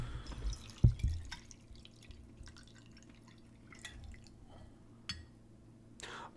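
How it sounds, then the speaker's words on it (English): More tea goes into a cup at a desk, first with a few close liquid drips and splashes, then faint trickles and light clinks under near silence. "Let's pour some more tea and take away the spoon."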